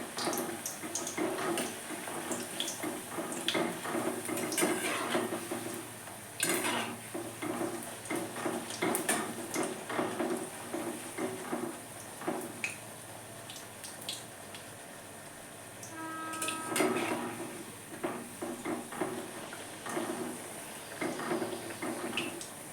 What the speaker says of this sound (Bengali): তেলটা হয়ে গেছে বন্ধুরা, দিয়ে দিচ্ছি লুচিটা